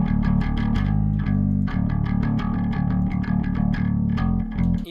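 A bass line played through the Duality Bass Studio plugin with distortion: a thick, buzzing low tone sustained under a rhythmic run of gritty, plucked notes, loud and steady throughout.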